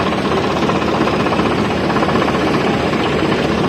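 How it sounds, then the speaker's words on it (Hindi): A Swaraj tractor engine while the tractor slowly reverses in a mustard field at harvest time: a loud, continuous, rough diesel rumble and clatter, steady and close, with no talking. "कुछ इस प्रकार से मैं धीरे धीरे ट्रैक्टर को बैक करूँगा।"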